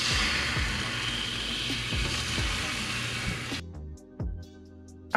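Soy sauce hits a preheated oil-free pan and sizzles loudly and steadily, then cuts off abruptly, leaving a few scraping stirs against the pan.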